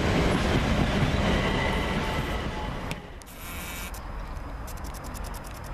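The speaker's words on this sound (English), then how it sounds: "Now just arriving here at Havant, the 11:56 service from Southampton Central to London Victoria" A Class 377 electric train rolls into Havant station, its loud wheel rumble and rail noise easing as it slows, then giving way to quieter station ambience with brief clicks and squeaks near the end.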